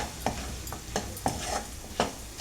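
Jackfruit seeds fry in oil with a steady low sizzle, broken by periodic scraping stir strokes about every half second, close and moderately loud with no talking.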